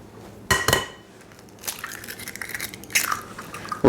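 Eggshells crack and crunch in a home Italian kitchen during arancini preparation, several sharp close breaks spread across a few seconds with softer crackling between them.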